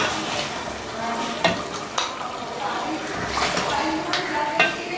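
Beef stew dopiaza being stirred and spooned out of the pot, with scraping clinks of utensil on metal and a soft sizzle underneath, a few sharper knocks scattered through, with someone talking over it.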